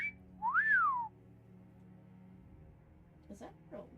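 A whistle alert on a livestream bot called Kermit during a charity gaming stream: one short rising-then-falling whistle, clear and close, followed by quieter background chatter.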